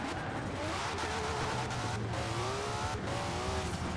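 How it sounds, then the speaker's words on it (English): Car drifting in Forza Horizon 4, with a continuous engine roar and rising, wavering tire squeal running loud and close throughout, without speech. "this car can drift like a dream"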